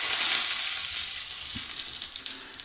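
Mushrooms sautéing in hot oil right after being flipped, a loud bright sizzle that fills the space and slowly eases, with a few soft pan knocks and stirring clicks.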